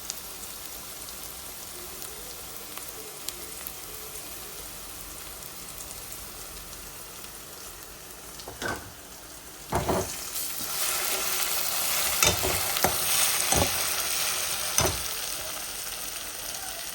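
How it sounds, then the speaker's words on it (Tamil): Goat brain roasting in a pan with onion, green chili and masala, a steady sizzle like light rain with a few sharper stir scrapes and bursts toward the end, no voices. "நரம்பெல்லாம் எடுத்து நம்ம இதை வந்து வெங்காயம் பச்சை மிளகா போட்டு கொஞ்சம் 2-3 மசாலா போட்டு நம்ம ரோஸ்ட் பண்ண போகிறோம்"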